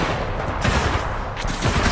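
Dense, continuous gunfire pounding against the vortex shield in Titanfall 2, a loud, close barrage of rapid impacts and shots with no pauses.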